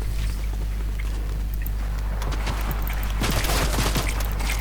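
Gunfire bursts in Fortnite gameplay, a rapid cluster of sharp shots toward the end over a constant loud low rumble of game audio, with no one talking over it.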